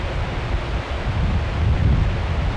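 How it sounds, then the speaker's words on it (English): Wind gusts across an outdoor cemetery in Big Cove, Alabama, producing a constant broad rushing roar with microphone buffeting that swells slightly toward the end, and no voices. "The wind's blowing leaves around."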